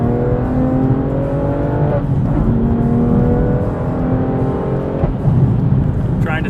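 A BMW M2 CS with a six-speed manual gearbox accelerates hard on a winding mountain road, its engine note climbing steadily through the revs, dropping at two gear changes, then rising again, loud and close throughout.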